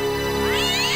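A cat meows in the point-and-click game Broken Sword, a single drawn-out call with a rising, wavering pitch over a steady musical background, close and clear with no talking.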